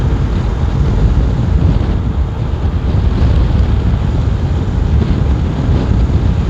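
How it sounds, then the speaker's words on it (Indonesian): Strong beach wind roars steadily and loudly across the microphone, a dense broadband rush with surf-like noise underneath and no pauses. "Banyak angin."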